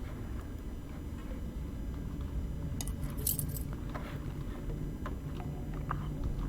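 Keys picked up in the video game INFRA, a brief metallic jingle rising over a steady low rumble of background ambience, with a few faint clinks afterward.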